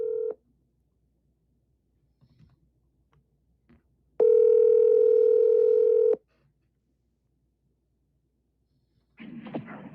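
A phone dialing to call someone: a single short tone, then a long steady ringback tone about two seconds, then faint noise at the end; quiet between, no talk.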